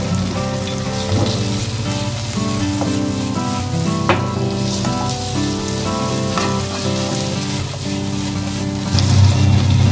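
Shrimp and meatballs frying in a pan with a steady, loud sizzle that crackles throughout, with occasional stirring clatter, and no one speaking.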